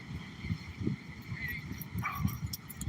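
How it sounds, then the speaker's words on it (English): A wet dog on a beach in Juno, Florida, making soft yips and whimpering sounds up close, under steady surf and wind noise with occasional nearby talk. "That is a wet dog right there."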